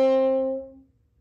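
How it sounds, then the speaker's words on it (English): A single stopped G note on a French horn, fingered as F sharp with the bell closed off by the hand, sustained for about half a second before fading out. "So for example, if we wanted to play G stopped,"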